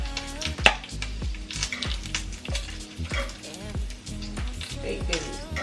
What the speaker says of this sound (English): Turn the heat down on my bacon. And add eggs in there.